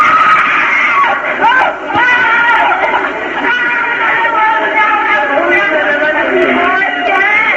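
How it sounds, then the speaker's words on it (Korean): Recorded crowd of many people screaming, wailing and crying together, a dense, continuous layer of overlapping anguished voices with rising and falling cries, sustained at full loudness throughout. "그 몇 시간 동안 울고 또 울면서 질렀던 그 비명의 소리인데요"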